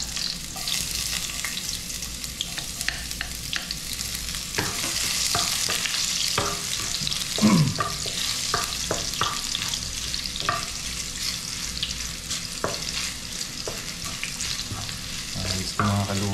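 Garlic sautés in hot oil in a pan for a Filipino dish, giving a continuous close sizzle with occasional stirring clicks and scrapes throughout.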